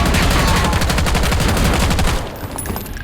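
Rapid automatic fire from a GPR91 rifle in the Warzone BO6 video game: a dense, loud stream of evenly spaced shots lasting about two seconds, then cutting off into fainter game ambience.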